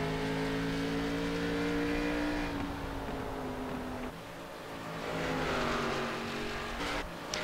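Race cars at Bristol speedway scream through engine revs, with rising and falling tones as cars pass, a brief dip midway, then another loud surge, heard at moderate distance with no talking.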